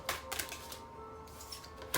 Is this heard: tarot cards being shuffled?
yes